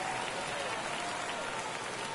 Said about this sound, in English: That fires up the home crowd, and they cut into the lead.